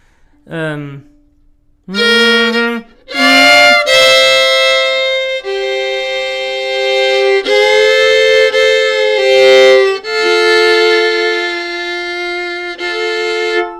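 A bowed string instrument sustains a held F, with the open A string droning beneath it and the pitch sliding between phrases after a brief opening note.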